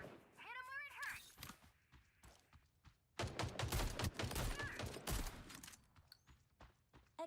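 Dense burst of shotgun fire in the online shooter Fate Trigger, a rapid cluster of loud blasts mid-clip after quieter game sounds, with a voice speaking briefly early on.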